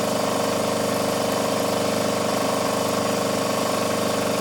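A 30-degree chamfer cutter machining a bevel, a loud steady mechanical drone with a fast buzzing rhythm that runs unbroken throughout, with no voices.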